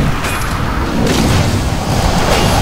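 Barrage, a World of Warcraft hunter ability, fires as a dense, continuous volley of booming shots lasting a few seconds, loud and rumbling with no voice over it.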